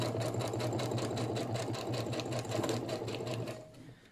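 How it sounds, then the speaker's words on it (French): A sewing machine runs at a steady, rapid pace stitching fabric, a close, even mechanical chatter lasting about three and a half seconds before winding down. "je descends mon aiguille et je viens réaliser une petite piqûre"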